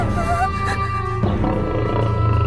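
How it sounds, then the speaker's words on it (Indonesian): A lion escaped from a zoo growls and roars loudly in a Doraemon cartoon, a deep sustained rumble with music or effects layered over it. "Yang dimana di sana ada seekor singa yang lepas dari kebun binatang."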